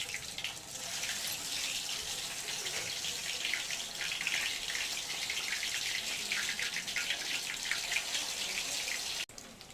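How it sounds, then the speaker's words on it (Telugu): Battered snack pieces dipped in a cornflour or rice-flour batter sizzle in hot oil, a steady, dense crackling hiss that holds evenly for nearly ten seconds and cuts off abruptly at the end. "డిప్ చేసి ఆయిల్లో వేసుకున్నాను"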